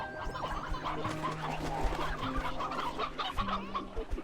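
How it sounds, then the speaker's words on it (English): Briar hen clucking in the Slime Rancher 2 video game, a run of busy clucks and fowl calls over a dense, steady game soundscape with music-like tones, no talk. "Okay, you have a few more briar hen."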